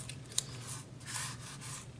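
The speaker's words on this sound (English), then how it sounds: "It doesn't take long at all to cut these guys out once you get going." Scissors cutting out paper card pieces for a handmade card, giving a soft, close rustle and rasp of blades through paper with one small click.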